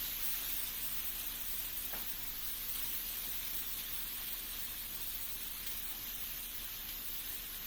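TVP sizzles in a hot oiled pan with a steady, broad hiss of frying, continuous and fairly even, with a faint thump early on and no talking.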